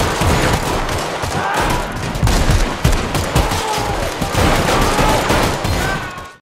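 Dense, continuous gunfire from a video game raid on a mafia group, with rapid overlapping shots and bursts filling the whole stretch, loud and close.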